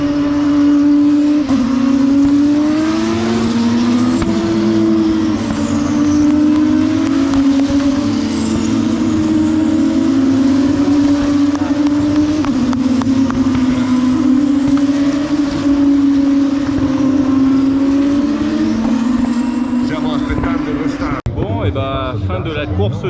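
F2 and Porsche race cars at the Monza Grand Prix howl past in a continuous loud roar, engine pitch rising and falling as they accelerate and pass, heard from the circuit crowd with voices underneath.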